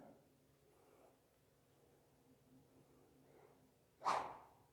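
A light practice stick is swung hard on the downswing, producing a single sharp, high-pitched whoosh close by, preceded by near silence with faint background murmur.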